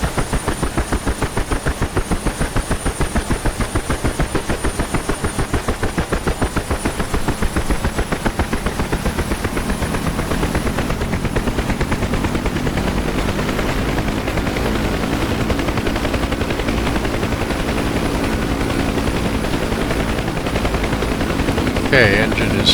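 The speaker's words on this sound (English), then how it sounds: "Okay, engine is stabilizing." A UH-1 Huey helicopter running in the DCS flight simulator: a rapid rhythmic rotor chop over a steady turbine whine, loud and close, gradually deepening as the engine settles.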